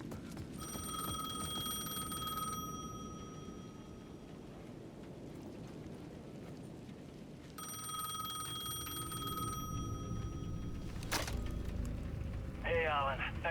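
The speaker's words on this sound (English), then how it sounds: "The payphone at the edge of the plaza was ringing again." A payphone rings in a plaza in Alan Wake II, a repeating electronic bell in two long bursts with a pause between them, heard over a steady rainy ambience with a brief sharp crack near the end.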